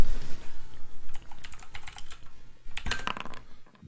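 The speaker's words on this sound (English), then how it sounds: "That's a nice sound. Yeah. The sound of rolling dice." Dice rolled during a Starfinder tabletop roleplaying session, heard as a burst of quick, light clicks and rattles that tumble and settle, close and fairly clear over a soft background.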